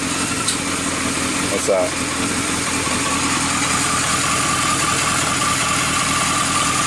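A KZ motorcycle engine idles steadily just after starting, a continuous low rumble with a slight sputter near the start, while someone talks over it.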